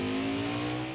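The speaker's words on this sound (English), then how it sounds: "I'm hard on the gas. I'm running my way up through the gears." A NASCAR Xfinity race car in the NASCAR Heat 5 game on the Mid-Ohio road course, its engine held at a loud, steady high-rev drone under full throttle, close and with no talking.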